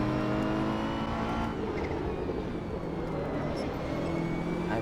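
Racing car engine in the Assetto Corsa video game, held at high revs with a continuous loud drone and shifting pitch, a second car audible close alongside.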